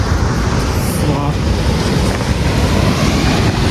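Ocean surf rolling in below the high cliff at Varkala beach in Kerala, a steady, dense wash of waves blended with gusty wind buffeting the microphone, with faint voices mixed in.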